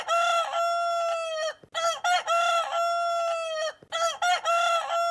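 Chickens call and cluck loudly at close range, a rooster-like crowing phrase repeating three times in quick bursts with short gaps between, no talking.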